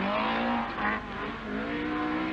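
Talbot Sunbeam rally car at a rallysprint drifting out of a right-hand bend, its engine a loud, close, sustained rasping roar that dips briefly and then climbs again, with no talk over it.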